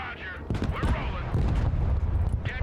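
Artillery and gunfire rumble through a battle in the video game Broken Arrow. Booming bursts and rattling shots come fairly loud and dense beneath a voice speaking over them.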